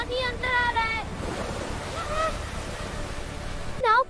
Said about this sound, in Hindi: देखो एक बड़ी लहर आ रही है